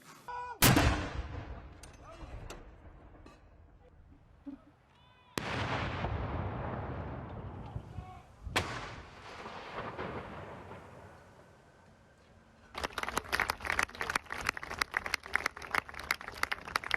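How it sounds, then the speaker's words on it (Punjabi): Cannon fire of a 96-gun artillery salute for Queen Elizabeth, with heavy booms rolling and decaying at intervals, some distant and echoing, followed by a stretch of sharp crackling reports. "ਮਹਾਰਾਣੀ ਐਲਿਜ਼ਾਬੈਥ ਨੂੰ 96 ਤੋਪ ਗੋਲੀਆਂ ਦੀ ਸਲਾਮੀ ਵੀ ਦਿੱਤੀ ਗਈ"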